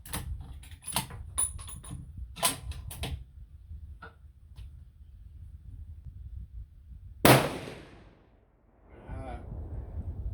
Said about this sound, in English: I'm going to shoot under the target and see where it goes.